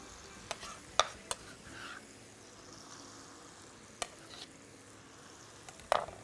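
Chicken with olives and tomatoes is stirred in a frying pan under a soft, steady sizzle, with a few sharp clinks of the utensil against the pan at scattered moments.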